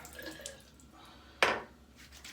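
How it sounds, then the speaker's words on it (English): Water from a blooming shaving soap is poured out in one short, sharp splash that quickly dies away against a quiet background. "pour the bloom water out"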